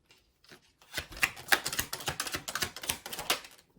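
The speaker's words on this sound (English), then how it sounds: "If I can shuffle the cards" Tarot cards are shuffled in a quick run of crisp, papery riffles and flicks, close and fairly soft, lasting a few seconds with no talking.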